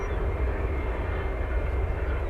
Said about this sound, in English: see a China Southern Boeing 777 in the background there